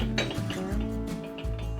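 Glass lid of a 1983 Corning Ware Visions saucepan set down on the pot: a couple of close, light clinks and a brief rattle of glass on glass ceramic, quiet room, no talking.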